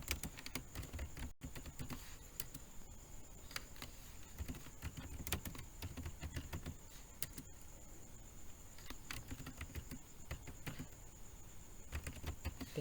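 Steady typing on a computer keyboard while entering stock data into an MS Excel spreadsheet, quick close clicks at an irregular rhythm with occasional heavier key presses, no voices.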